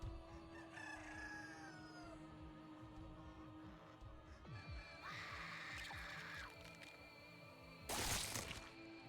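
Rooster-like bird crowing in the game Lobotomy Corporation, a loud drawn-out crow followed by a sharp burst near the end over a low droning game background.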